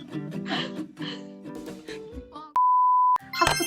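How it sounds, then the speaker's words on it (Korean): An electronic phone tone sounds once as an incoming call from grandma arrives, a steady pure beep lasting about half a second after a stretch of chatter, with more talk resuming right after. "잠깐만 할머니한테 전화 와가지고 한 번만 받을게"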